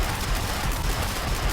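The Electrosphere Launcher in Terraria fires rapidly, producing a dense, continuous burst of crackling gunfire-like blasts with no pauses, loud and close.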